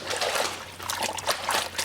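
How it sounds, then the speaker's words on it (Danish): A sock is rinsed by hand in a basin of slightly dirty laundry water in Ghana. Soft trickling and light sloshing keep going throughout, fairly quiet and close. "Og det her vand er ved at være lidt snavset, så jeg skyller 2 gange"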